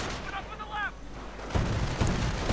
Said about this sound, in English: running into auto cannon fire